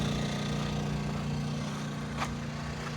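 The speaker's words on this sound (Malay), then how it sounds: "Keluar masuk sampan nelayan." A fishermen's boat engine drones steadily on a river, a continuous low motor hum that holds at an even loudness throughout, with no voices.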